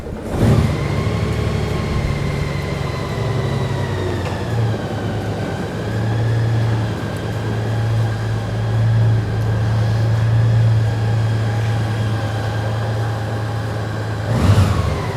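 A Honda Goldwing 1800cc motorcycle with its stock exhaust idles steadily and close by, a smooth low engine hum that holds throughout, with a brief rise near the end.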